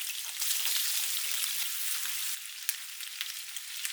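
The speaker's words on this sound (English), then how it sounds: "Fry it until a thin layer of colorful, flavorful looking crust appears." Pork shallow frying in oil in a pan for Vietnamese sweet and sour pork, a loud, dense, steady sizzle up close with a few sharper pops toward the end.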